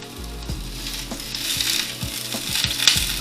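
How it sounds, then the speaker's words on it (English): Impossible plant-based burger patties fry in hot oil in a pan, with a loud steady sizzle and a series of sharp pops and spatters every fraction of a second, close and alone. "The hot freaking oil it was exploding right in front of my face"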